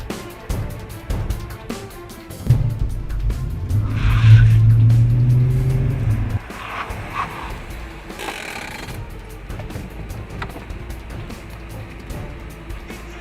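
A car reverses hard away from a threat, its engine surging loud and close for a few seconds with tire squeal, then easing to a lower steady rumble.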